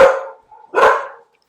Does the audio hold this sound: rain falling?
no